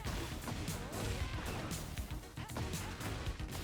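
Busy, dense impact sounds from a Tekken 8 fighting game heat smash, heavy crunching hits and clashing effects stacked continuously over a loud game soundtrack for a few seconds.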